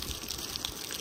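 Water running steadily in a field as plants are irrigated in the evening, a continuous gushing flow at moderate level with no talking.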